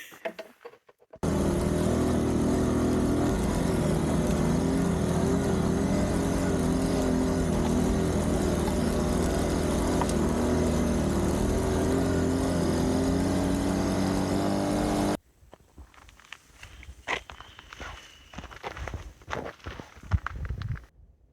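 Honda C70 Cub motorbikes on the Lost Coast 4x4 trail in Northern California: a loud, steady engine drone holds for about fourteen seconds, then cuts off abruptly, leaving quieter scattered rustles and knocks.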